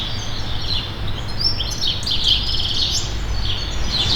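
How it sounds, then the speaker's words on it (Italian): Small birds sing in the trees of an urban green corridor along a city street, with bright overlapping chirps and trills carrying steadily over a low background rumble of traffic. "sentendo gli uccellini cantare sugli alberi del corridoio ecologico che ancora sopravvive in questa strada"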